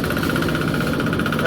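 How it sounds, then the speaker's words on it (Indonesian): Corn sheller machine engine running hard under throttle on a farm, a loud, close, steady mechanical drone with a rapid rattling pulse throughout. "Kita tarik gasnya. Usahakan kenceng Pak, karena ini mesinnya oke."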